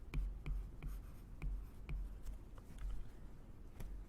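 Chalk or marker scratches against a board in short repeated strokes while a teacher diagrams a grammar sentence, writing out the predicate verb; the taps and scrapes are close and fairly quiet, with no talking.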